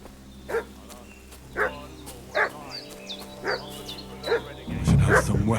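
A dog barks in a village in Kingdom Come Deliverance II, about six evenly spaced woofs at middle distance over quiet ambience, ending with a brief rustle.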